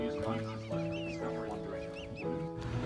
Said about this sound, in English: Birds flew by and greeted us to their land.